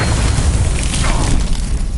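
Confringo explosion spell going off in a Harry Potter video game: a loud, sustained booming blast with a deep rumble that fills the whole moment, with no voice over it.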